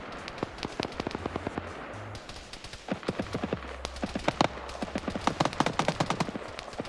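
Rapid bursts of 7.62 coaxial machine-gun fire from BTR armored vehicles in a Soviet-Afghan War multiplayer game, sharp cracks in quick irregular strings, some near and loud, others softer, layered over a low engine rumble with no talk.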